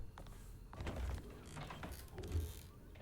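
A door creaks in the video game Alone in the Dark, a slow, drawn-out groan of straining hinges with some mechanical rattling, fairly quiet and heard alone.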